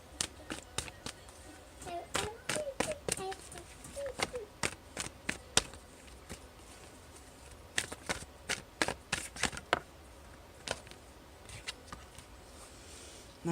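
A tarot deck being shuffled and cards drawn, giving a dense run of crisp card snaps and flicks up close, then scattered taps and shuffles, with a voice speaking briefly in places.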